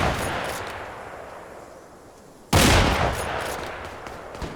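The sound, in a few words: gunfire from video game Antistasi Ultimate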